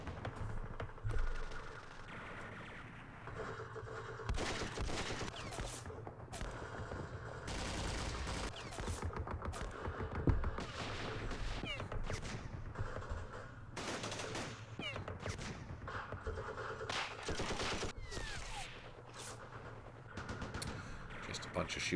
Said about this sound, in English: Just a bunch of shooting there.